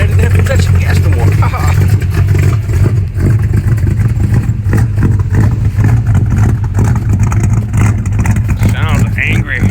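A 1968 Ford Fairlane V8 runs loud and close after starting, its rumbling engine revving and surging over a steady throb for several seconds, with someone talking over it.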